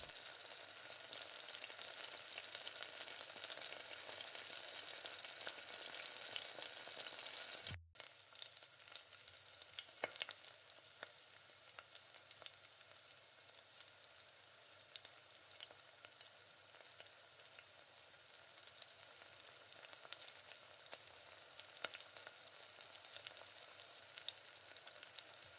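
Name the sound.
bonda balls deep-frying in oil in a kadai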